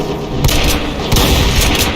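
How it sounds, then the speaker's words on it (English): A Hell Knight variant in a Doom mod unleashes explosive fire trails, a couple of heavy booming blasts with crackling follow-through over constant loud game noise. "the other ground-based attack is a spread of 3 explosive trails"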